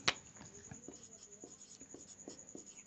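Chalk or marker strokes on a board during a geometry lesson, a rhythmic series of short scratchy taps at a steady pace, close and moderately quiet, with a voice speaking faintly in the background.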